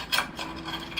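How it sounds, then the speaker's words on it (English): A tool scrapes around the inside edge of a bonsai pot holding an apple tree, loosening the soil in a short, close rasping rub. "going to start by loosening up the edges of the pot"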